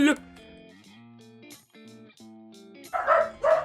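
Several dogs bark and yip excitedly in short bursts, closing with two loud, close barks, while a person talks over the noise.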